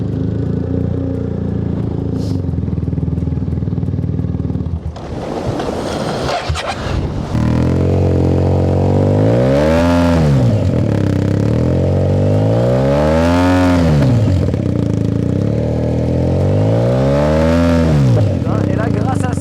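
BMW 1250 GS Adventure motorcycle engine, close by, revving in repeated rising-and-falling sweeps after an initial rough idle and clatter, with a voice over it.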